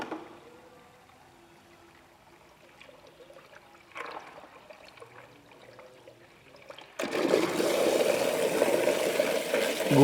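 A mixer machine blending lychee kicks in abruptly partway through, a loud, steady broadband whirring roar that stays continuous to the end after a quieter stretch of faint handling sounds.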